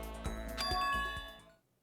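A bright electronic doorbell chime rings out in the video game Danganronpa: Trigger Happy Havoc, ringing tones layered over a few soft pulses, then fading away within about a second and a half.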